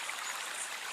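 A cup scooping water from a stream, with soft continuous splashing and trickling, close and fairly quiet, no talking.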